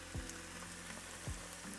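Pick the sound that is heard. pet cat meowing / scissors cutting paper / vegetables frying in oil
vegetables frying in oil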